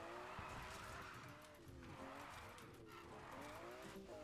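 An F1 car drifts in Need for Speed Heat, its engine screaming with wavering pitch over continuous tire squeal and skidding, loud and close, with someone talking over it.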